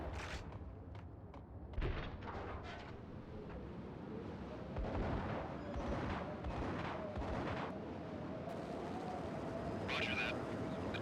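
Gunfire in the Max Payne video game, a string of sharp, fairly loud shots and bursts scattered through the clip over a steady rumbling game backdrop, with a tonal hum running underneath.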